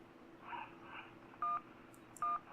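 Two short, clear DTMF keypad tones in the 911 Operator video game, evenly spaced and fairly loud over a faint background hum, each followed by small clicks and a brief high blip.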